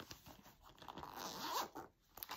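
A pencil case zipper is pulled open in one quick, raspy run, up close and fairly quiet.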